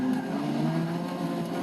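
A Porsche 959 lapping Mount Panorama in Forza 6 holds a steady, loud engine drone while its tires squeal continuously through a corner.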